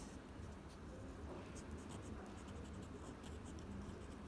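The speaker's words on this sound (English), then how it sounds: "Maybe I should write this down." Someone writes something down by hand, the soft, continuous scratching quiet and close, with no one speaking.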